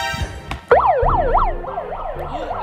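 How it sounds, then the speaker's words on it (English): An emergency siren wailing in a real-life Among Us game, rising and falling in quick repeated sweeps after a couple of sharp knocks, fairly loud and with no one talking over it. "Oh my god. A siren."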